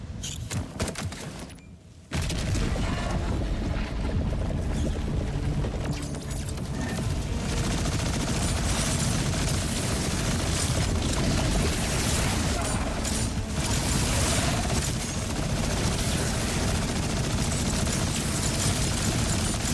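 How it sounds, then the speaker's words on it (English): Rapid laser weapon fire in the video game Borderlands 4, a dense, loud, continuous barrage of shots and impacts that sets in abruptly after a short quieter opening and keeps going without a break. "My lasers are shooting those things for me."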